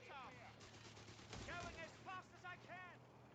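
Gunfire from Company of Heroes 3 crackles in irregular bursts through a busy battle mix, with game voice lines and a steady low hum running underneath.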